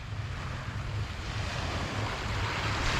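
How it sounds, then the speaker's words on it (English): Steady wash of surf with wind rumble at Slovenska plaža, the main beach of Budva, Montenegro, a continuous broadband roar holding even for the whole stretch with no voices. "So this is the main beach of Budva, called Slovenska plaža."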